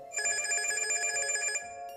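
An electronic telephone bell rings in one sustained, rapidly trilling burst lasting about a second and a half, loud and close, over a quiet background.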